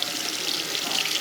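Tap water runs steadily into a sink while a child washes her hands, a continuous close hiss with no pauses.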